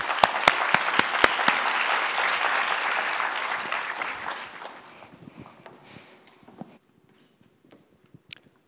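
An audience claps to welcome a speaker to the stage at a design forum on sustainability, with dense, steady applause and a few loud sharp claps close by, fading out gradually over several seconds into near silence.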